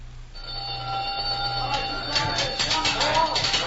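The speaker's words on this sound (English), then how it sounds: "The gong will sound off any minute" A prison supper gong rings out, a sustained metallic clanging tone that rises over background voices and ambience, fairly loud and near.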